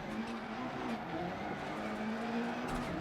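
A Dirt Rally 2.0 rally car slides with clutch and handbrake, its engine droning at a steady, strained pitch amid tire scrub and gravel noise, continuous and close.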